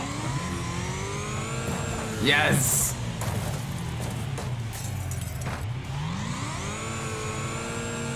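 A giant monster truck in the Wreckfest racing game revs its engine, rising and falling pitch sweeps over a constant motor drone, with a crash or impact burst midway and a voice speaking briefly.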